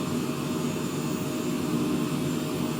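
An aircraft engine in a flight simulator game drones steadily, a loud continuous roar with a broad rumble that holds level throughout, no voices over it.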